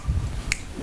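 A single crisp finger snap, heard once in the middle over low background rumble during a live Sundar Kand recitation.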